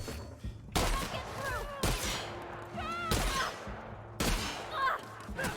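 Repeated heavy shotgun blasts in Halo 2, four loud booming shots spaced about a second apart with game effects between them.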